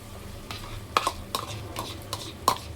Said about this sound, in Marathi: आणि आता ह्याच्यामध्ये ही टोमॅटो प्युरी टाकते